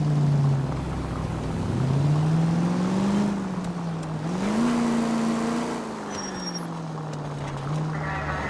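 A car driving in L.A. Noire, its engine droning and rising and falling in pitch as it speeds up and eases off, fairly loud and close, with a faint chime near the end.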